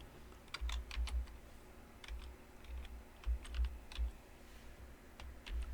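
Rapid clicking of a computer keyboard as a search term is typed, irregular bursts of keystrokes close and fairly quiet, with no talk.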